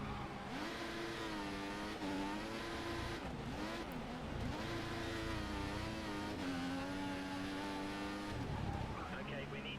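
Formula 1 cars roar past in the F1 2014 racing game, with a loud sustained high engine whine that rises and falls through gear changes and some tire squeal, while a voice talks over it.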